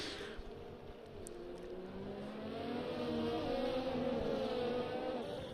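F1 race cars in the F1 2020 video game at the Mexico round, engines whining steadily and rising in pitch as they accelerate, a continuous mid-loud drone with no talk.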